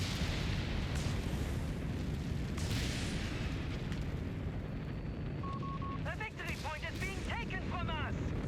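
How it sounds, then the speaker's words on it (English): Explosions from a Stuka creeping barrage in Company of Heroes 3 make a constant, heavy rumble of battle, with dense low booms and bursts running throughout and a voice talking over them near the end. "We got Stuka doing a creeping barraging the whole sector."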